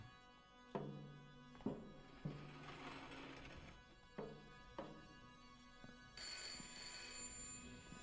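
A telephone ringing in the horror game Layers of Fear, UE5 remake: repeated electronic bell rings in short bursts with gaps, fairly quiet, ending in a brighter sustained tone.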